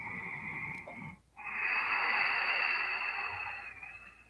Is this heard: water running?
no